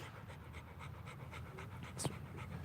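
A thirsty dog pants in quick, steady rhythmic breaths close by, soft and continuous, with a brief sharp clink near the end.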